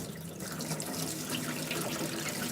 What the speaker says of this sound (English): I'm just rinsing all the potatoes off.